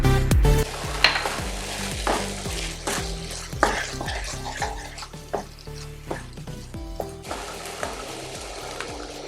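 Sooji halwa with saffron cooking in a pan over low heat, a steady soft sizzle broken by repeated scraping and stirring strokes of a spoon against the pan, close and fairly loud with no talking.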